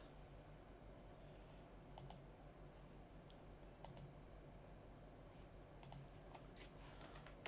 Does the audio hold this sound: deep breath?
no